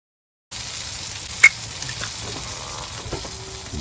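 Seafood fries in a hot pan after the last flip, with a steady, close sizzle and a couple of sharp pops and light clicks from the pan, with no talking.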